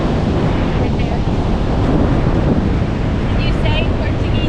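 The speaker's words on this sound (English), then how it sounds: "there's so much wind here" Strong wind roars steadily across a microphone on a Galveston Island beach, with surf mixed into a constant loud rumble and faint tonal squeaks near the end.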